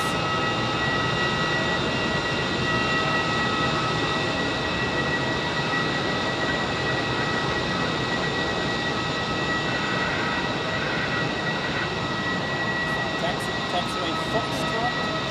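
Aircraft taxiing at Zurich airport gives a steady, loud jet-engine whine with tonal hums that holds evenly throughout, heard from an observation deck.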